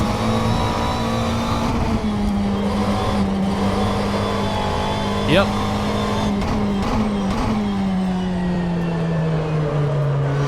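A GT3 race car in the video game rFactor 2, its engine droning at steady revs, then a pitch drop near the end as it downshifts, with a tire squeal midway and brief talk over it.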